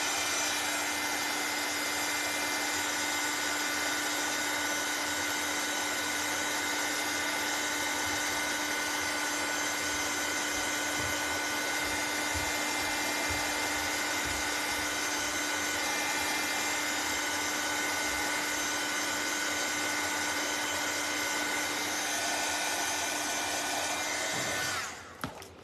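A nail dryer runs steadily for about 25 seconds, drying freshly painted red nails with a loud, constant close-up whir that cuts off at the end.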